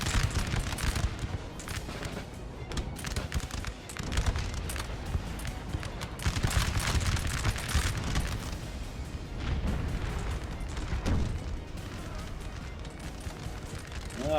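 Artillery barrage and musket volleys on a Napoleonic battlefield in the Napoleon: Total War game, a dense, continuous crackle of gunfire and booms rolling on without pause, loud and busy throughout.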